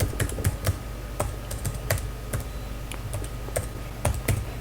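A web address typed on a computer keyboard: quick, irregular clacking keystrokes close up, with occasional louder taps, over a steady low hum and no speech.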